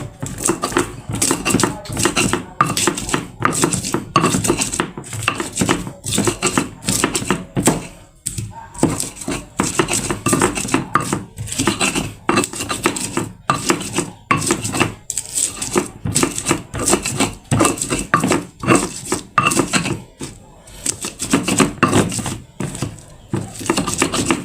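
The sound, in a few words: pounding spices in a stone mortar: shallots, garlic, candlenut, chili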